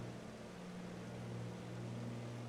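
A Kodiak floatplane's engine drones steadily in flight over the Olympic Mountains, a constant low hum with a faint propeller buzz, no voices.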